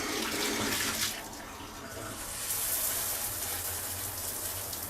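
Running water for washing hair in Colombia, a steady close splashing stream from a tap or shower with slight swells in strength.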